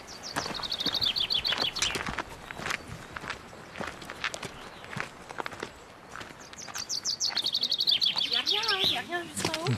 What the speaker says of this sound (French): il y a un petit pinson qui salue notre passage